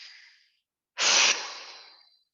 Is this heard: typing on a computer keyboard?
no